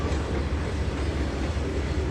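A yard train engine rolls along the track in a Trainz 2022 rail simulation, giving a steady, loud, close rumble with no pauses for its whole brief length.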